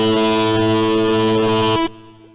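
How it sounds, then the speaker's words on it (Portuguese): Korg Kross synthesizer organ patch with built-in overdrive distortion, a thick sustained gritty chord held loud for nearly two seconds before cutting off to a fading tail. "Presta atenção que o som de órgão ele já tem distorção aqui nele."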